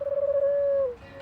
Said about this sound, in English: Except that's a pigeon